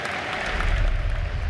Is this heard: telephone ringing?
no